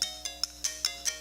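A phone ringtone chirps in a quick, regular run of bright electronic pulses, loud and clear with no voices over it.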